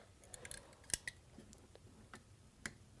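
Scissors snipping shrink wrap tubing from a kayak rudder service kit, a handful of sharp quiet clicks and cuts spread irregularly over a faint background.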